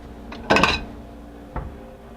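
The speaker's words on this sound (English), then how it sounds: "I'm going to grab a plate." A plate clatters briefly as it is picked up in a kitchen, a sharp ceramic clink followed by a fainter knock a second later, close and with no talk.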